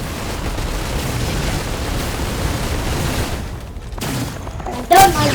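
Attacks exploding in the Risk of Rain video game, a dense continuous barrage of booming blasts and crackling gunfire that holds steady, dips briefly, then ends with a sharper burst.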